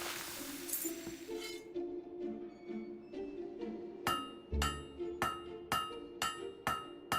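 In the Fable 3 video game, a hammer strikes at an open market stall. A run of bright metallic clinks and pings repeats about twice a second, sharper toward the end, over soft ringing tones.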